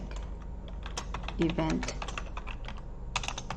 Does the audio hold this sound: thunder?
no